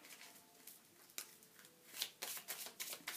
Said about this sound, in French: Allez, je vais mélanger les cartes